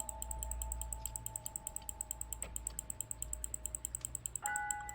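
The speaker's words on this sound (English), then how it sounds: "I'm clicking, baby! Do you hear this?" Mouse clicks while playing L.A. Noire: a fast, steady stream of crisp, close clicks at a regular rhythm over faint game music, with a short musical cue near the end.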